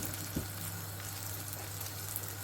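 Eggs sizzle and spit in hot oil in a pan, a steady dense frying crackle with a low hum underneath and no talk.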